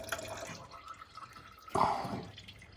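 Coolant from a 1931 Ford Model A pickup radiator dribbling slowly into a pan, a soft trickle with a louder splash of liquid near the end, close by.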